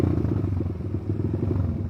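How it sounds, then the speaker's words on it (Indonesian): An old junk motorbike rumbling steadily on a rocky trail, a close, continuous engine drone with clattering texture and no break. "sekarang kita akan mengetes motor rongsokan ini ya di jalurnya pembalap"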